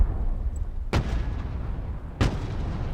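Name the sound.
artillery barrage explosion in video game Broken Arrow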